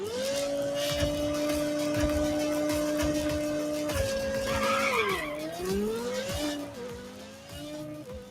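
A tuned race car in the Nitro Nation racing game, its engine droning at a steady high pitch, then shifting and dipping before climbing again, with tire squeal and skidding over a constant loud roar.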